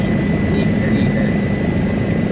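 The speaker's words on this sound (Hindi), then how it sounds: "ये हेलीकॉप्टर जमीन पर उतरने की लग गया।" A helicopter descends to land at a mountain helipad on the Kedarnath pilgrimage route, heard from inside the cabin as a loud, steady rotor and engine roar with a constant low throb and no pauses.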